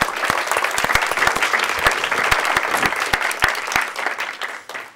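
Audience applause for a guest speaker at a university talk on research directions at HP Labs, a dense steady clapping from a crowd that runs the full length and tapers slightly at the end.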